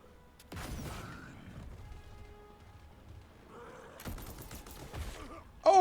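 Sniper rifle shots ring out in the tactical video game Gears Tactics, with two loud bursts of gunfire separated by a quieter stretch of game ambience and a sharp hit at the end.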